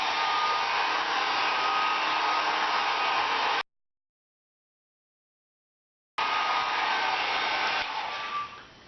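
A hair dryer on its low setting blow-dries hair treated with heat-protectant mousse, a loud steady airy rush close by, cutting out abruptly to silence for a few seconds, then resuming and tapering slightly at the end.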